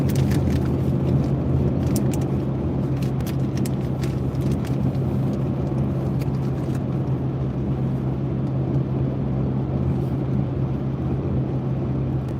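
Steady road and engine drone from inside a car cruising on a long highway trip between California and Florida, a constant low hum with faint ticks and no talking.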